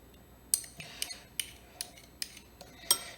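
A long spoon scrapes and taps inside a jar while scooping out honey, giving a series of light, sharp metallic clicks at irregular intervals, close and quiet.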